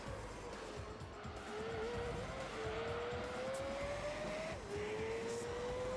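A race car in Gran Turismo 3 slides sideways while its tyres squeal. A steady engine drone carries rising, stepped whines, and no one speaks.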